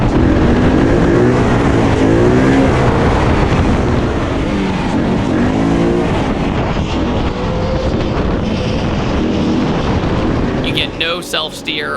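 A Ford Mustang Coyote V8 swapped into a Nissan 240SX screams at high revs while drifting, a loud sustained engine roar with rising and falling pitch sweeps, easing off near the end as chirps cut in.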